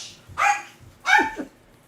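A dog barking at something on a porch, two loud, close barks about a second apart with a short yip trailing the second.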